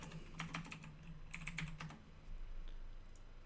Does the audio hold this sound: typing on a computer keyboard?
yes